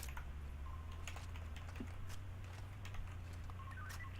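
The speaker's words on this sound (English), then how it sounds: "Hey, my keyboard's noisy." A noisy Razer DeathStalker keyboard is typed on in quick, scattered clicks that sit faint beneath a steady low room drone, with no voices.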